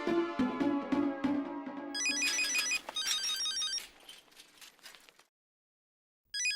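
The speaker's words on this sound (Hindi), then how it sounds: "हाँ तो अब्दुल से बात कर लेते ना, फोन लगाओगे? मैं लगाता हूँ।" A phone ringtone plays over speakerphone, a bright electronic melody with chiming tones, stopping abruptly before a brief silence and another burst of sound.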